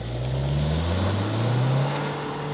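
A 2025 Volkswagen Tiguan SEL R-Line accelerating hard from a launch, engine note climbing steadily in pitch, loud and close with a smooth droning rise and slight dip near the end.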